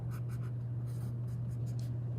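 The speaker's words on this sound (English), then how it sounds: "I'm going to label it on my paper as A" Pencil scratching across paper while working a calculus problem, a run of quick short strokes close up over a steady low electrical hum.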